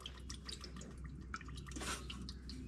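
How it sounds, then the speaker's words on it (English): Fuel from the drain plug of a Case 305 dripping and trickling into an old metal coffee can, a faint, close run of irregular splashy drips over a low hum, without talk. "I open up that little drain plug on the bottom, and I've got fuel going down this old coffee can"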